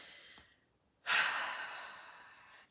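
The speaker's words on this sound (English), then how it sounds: "Just take a nice deep breath." A single deep breath taken in a quiet room: a faint exhale at first, then a strong, close, airy inhale that slowly tapers off over a couple of seconds.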